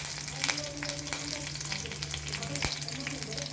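Curry leaves crackle and sizzle in hot oil, with a steady dense frying hiss broken by sharp pops and spits throughout, close and fairly loud, with no talking.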